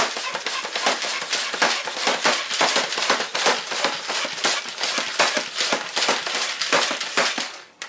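A modded NERF Titan blaster is pumped about 25 times in quick succession, each stroke making a loud, sharp rasping burst in a steady, even rhythm that runs for the whole stretch with no talking.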